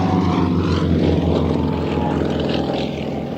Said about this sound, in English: Outside looping, that's where you push the aircraft around a loop